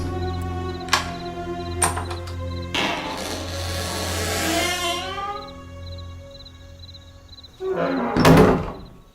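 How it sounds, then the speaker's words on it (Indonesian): A grandmother opens a door in a large two-storey house: several sharp knocks and thunks, then a long creaking, scraping swing of the door, and a final loud bang near the end, with no talking. "Oma pun membukakan pintu"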